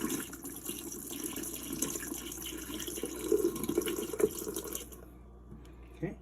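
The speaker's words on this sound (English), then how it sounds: "All right, I'm going to pour again." Water is poured into a container while rinsing seeds for seed saving, a steady close splashing trickle with a few gurgles before cutting off near the end.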